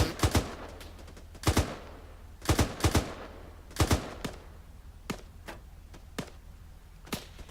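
Gunfire in the ArmA 3 military simulation game, sharp single and paired shots spaced out irregularly, loud and close at first, then lighter cracks that sound more distant.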